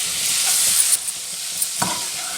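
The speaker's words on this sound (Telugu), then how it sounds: "ఇప్పుడు చికెన్ వేసేస్తున్నాం." Chicken pieces sizzle with garlic in a hot pan for a restaurant-style chicken pasta, a steady loud hiss close by, broken by a few soft stirring clinks.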